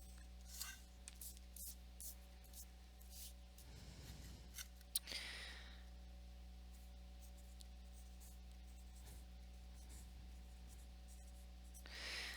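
A pencil scratching along a ruler on paper, faint, soft strokes in short runs with pauses, over a steady low background hum in a quiet room.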